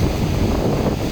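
Steady wind buffets the microphone at the seaside in La Mata, a dense continuous roar with a faint wash of surf underneath and no voices.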